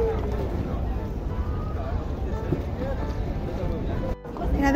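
A gondola ride on the canals of Venice, with a steady broadband wash of water and wind sounds close by and talk over it, briefly dropping out near the end.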